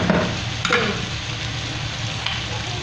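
Pork dinuguan ingredients are stirred together with the meat in a hot pan, a steady sizzle with a few scraping strokes near the start, close and moderately loud.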